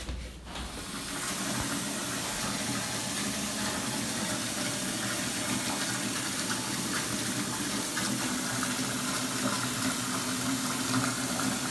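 Tap water gushes steadily into a baby's bathtub at home, a continuous broadband hiss starting abruptly and holding an even level for about eleven seconds.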